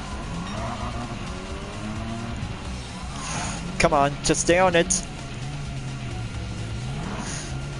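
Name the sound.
Ford Focus Group B rally car racing, from video game Gran Turismo 7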